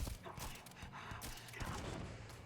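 Repeated gunfire from the AK000 weapon mod in Starfield: a series of sharp, punchy shots with thumping impacts, fairly close, with a voice murmuring faintly beneath.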